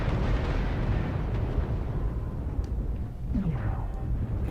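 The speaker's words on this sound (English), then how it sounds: "Looks like there's an arty strike there." An artillery strike in the video game MechWarrior Online erupts as a dense, rumbling explosion that rolls on and slowly fades, with a brief whooshing sweep near the end.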